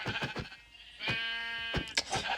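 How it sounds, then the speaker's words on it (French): Sheep in the video game Minecraft bleat several times in quick succession, with one longer, wavering cry in the middle, fairly faint and alone. "Le mouton, il est tout seul dans sa cage."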